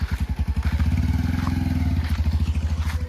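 A motorcycle engine turning over with a fast rhythmic chugging that never catches into a running idle, loud and close, cranking steadily throughout with no speech.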